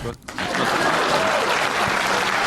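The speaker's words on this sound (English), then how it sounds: "Let's welcome to the stream, Ambi. Please clap" Applause welcomes a guest onto a livestream, rising quickly into a steady, loud, dense clapping wash that holds for the rest of the moment, with talking mixed in.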